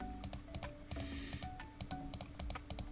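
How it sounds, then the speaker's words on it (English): Rapid, uneven clicks repeat up close and steady, like a computer mouse being clicked over and over on a desk while someone searches a point-and-click game, with no talk. "I'm clicking everywhere, as you can hear."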